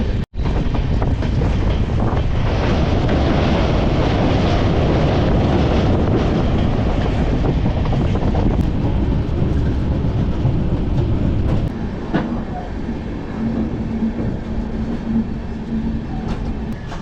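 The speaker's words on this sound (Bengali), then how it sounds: "কাঞ্চনকন্যা এক্সপ্রেস দাঁড়িয়েছে 3 নম্বর প্ল্যাটফর্ম" The Kanchankanya Express at a Siliguri station platform, a loud, continuous rumble of train noise with heavy wind buffeting on the microphone, easing somewhat toward the end.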